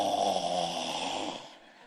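A voice imitates an elderly grandmother's loud snoring, a single drawn-out rasping snore close up that trails off and fades near the end.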